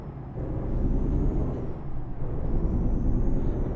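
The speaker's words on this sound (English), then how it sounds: "Let's take the parking brake off" A truck's parking brake releases with a long hiss of air in Euro Truck Simulator 2, a steady rushing exhaust over the idling engine rumble, with no talk.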